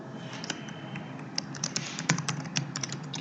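Keys clack steadily on a computer keyboard as Java code is typed, with irregular bursts of close, crisp keystrokes speeding up toward the end.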